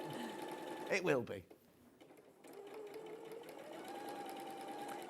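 A sewing machine stitching the back of a garment runs in a steady whirr beneath ongoing conversation, with a brief louder burst near the start before the motor settles into a continuous hum.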